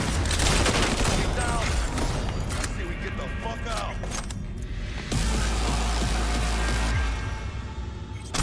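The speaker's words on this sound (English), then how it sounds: "Rapid fire." Rapid automatic gunfire rattles in a Cyberpunk 2077 firefight, dense continuous bursts mixed with impacts, clinks and game sound effects, loud and close with a voice talking over parts of it.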